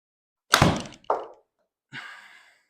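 A golf ball is struck thin with a club on a Sawgrass course, giving a sharp, close thunk followed by a shorter knock and a faint trailing sound.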